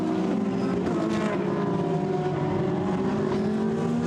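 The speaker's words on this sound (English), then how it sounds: "The Lamborghini Huracan turning its way now up once again towards the right-hander at Saint-Baume" A Lamborghini Huracan race car engine drones loud and steady on the Paul Ricard circuit, with wind buffeting the microphone throughout.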